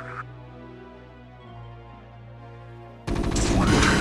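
Loud burst of gunfire in the Starcraft video game, a dense rattling volley erupting suddenly near the end after a quieter stretch of game hum, with no talking over it.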